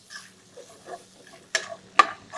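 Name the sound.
stirring mixed vegetables with salt in a pan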